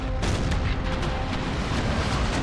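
Ship cannons firing in Empire Total War during a naval battle against a brig: a loud, dense barrage of booming shots that blur into one continuous rumbling roar, with no voices.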